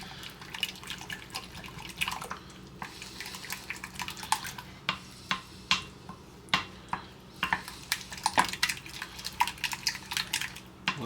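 Egg and yogurt whisked together in a bowl for French toast batter, giving a run of quick, irregular clinking taps of utensil against dish, close and fairly clear, with no talking.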